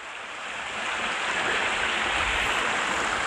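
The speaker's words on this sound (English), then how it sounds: "pretty little Babylon Brook right next to the trail" Babbling brook beside the Appalachian Trail in Virginia, a steady close rush of flowing water, broadband and constant with no voices.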